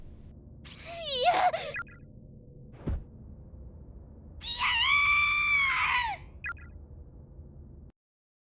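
A girl screams in the horror video game Corpse Party, with two loud, drawn-out shrieks separated by a short thump, heard over a low ambient drone that cuts off at the end.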